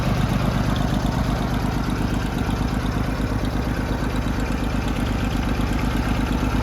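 A vintage Oliver 70 tractor engine chugs steadily while being driven, with a loud, close, continuous rhythmic rumble and no voices over it.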